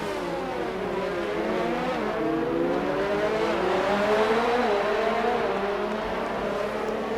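Formula 2 race car engine in a racing video game, a continuous high-revving drone whose pitch rises and falls through gear changes, loud and unbroken with no talk over it.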